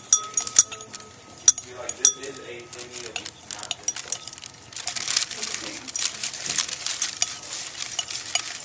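Hydrochloric acid mixture stirred in a container, giving repeated light clinks and scrapes against the vessel, with busier rattling toward the end and voices faintly in the background.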